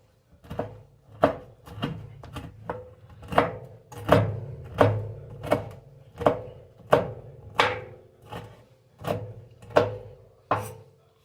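A knife chopping bacon on a cutting board, about twenty steady thuds in an even rhythm, close and fairly loud, with no talking.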